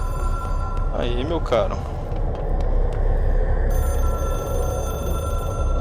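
A telephone rings in the video game Control, a trilling bell that sounds twice near the start over a constant loud background hum, while someone speaks briefly over it.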